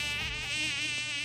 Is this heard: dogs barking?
no